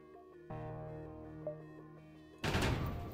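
A small bomb striking a ship's hull in the space game FTL: a sustained tonal hum gives way to a sudden loud, noisy blast burst near the end.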